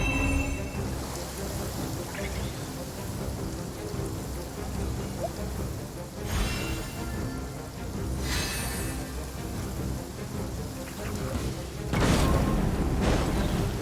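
Rain falls steadily in the Genshin Impact video game, a constant dense patter, while thunder cracks and rolls through three times at irregular intervals over the downpour.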